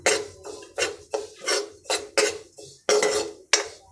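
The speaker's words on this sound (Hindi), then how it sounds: "हम आधी कटोरी सफ़ेद तिल लिए हैं, हम इसे भून लेते हैं इसी कढ़ाई में" White sesame seeds dry-roasting in a kadhai, stirred with a metal spoon that scrapes and taps the pan in a steady rhythm of about eight strokes, close and moderately loud, with no talking.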